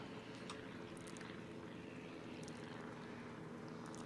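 Rocket-armed carrier planes drone steadily overhead in World of Warships, a continuous propeller-engine hum with faint splashy water noise under it and no talk.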